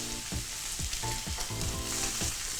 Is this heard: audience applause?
no